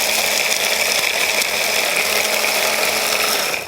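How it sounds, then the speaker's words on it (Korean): An electric grinder grinds dried shrimp for doenjang with a loud, steady mechanical whir and rattle. The sound runs unbroken for nearly four seconds with no talk. "또 이렇게 새우도 제가 한번 넣어서 갈아볼게요"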